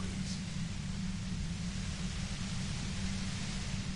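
Steady, dense white-noise hiss from the video game Disco Elysium, broadband and unchanging for the whole stretch, with a low rumbling layer beneath and no other events.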